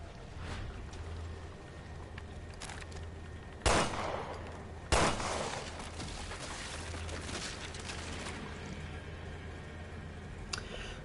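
Shotgun blasts in the video game Resident Evil Revelations 2, two sharp loud reports a second apart standing out over a low ambient game drone, with no talk.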